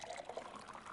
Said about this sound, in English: the audio pouring just kind of reminds me of